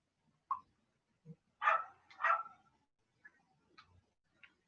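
Little puppy giving a few short, quiet barks and yips separated by pauses, with two louder barks in the middle and faint whimpers toward the end.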